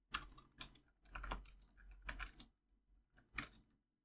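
Soft, close typing on a computer keyboard comes in several quick bursts of clicking keys separated by short pauses, fairly quiet with no talk.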